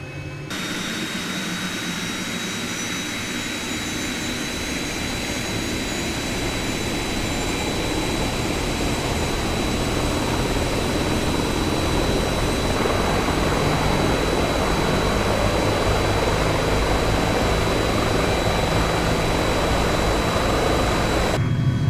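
Cowan 500E turbine engine in a flight simulator spooling up after start, a steady loud jet whine with a high tone and broadband roar that builds slightly and holds throughout, no talk.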